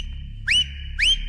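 A person whistles in a courtroom, two loud, sharp rising whistles, each about a sixth of a second long and roughly half a second apart, heard close over a low steady background hum.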